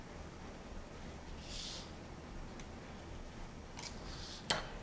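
A few crisp snips of a blade cutting a fresh pasta sheet into squares for tortellini, sparse and fairly quiet over a steady room hiss, with the sharpest cut near the end.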